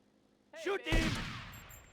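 Gunfire in GTA Vice City: a voiced exclamation gives way to a sharp, loud shot-like burst whose noisy tail decays over about a second, with a faint electronic tone behind.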